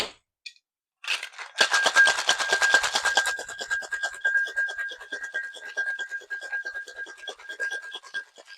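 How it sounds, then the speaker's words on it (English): Ice rattles hard inside a cocktail shaker tin: a brief knock, then rapid rhythmic shaking that starts loud and carries on for several seconds, slightly easing toward the end. "We're going to shake for about 10 to 15 seconds or until it's ice cold in your hands."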